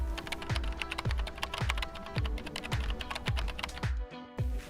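Computer keyboard keys clatter in a quick, steady run of close taps as a campaign name is typed, each keystroke crisp and distinct, ending with a couple of slower presses.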